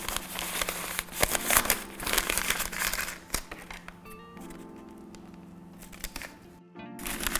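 A plastic piping bag crinkles and rustles as a cone is pushed inside during cake icing, with dense crackling handling sounds up close, easing to lighter sporadic crinkles and a few faint clicks.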